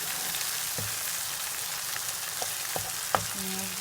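A Pakistani vegetarian dish with tomato paste is stirred in a pan: a steady close sizzle of frying, with soft scraping and a few knocks of the utensil against the pan.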